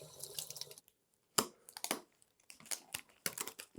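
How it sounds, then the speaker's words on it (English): Water from a sink tap runs in short splashy bursts as an etched metal piece is rinsed, broken by brief silences and faint handling clatter. "Go rinse this off in the sink."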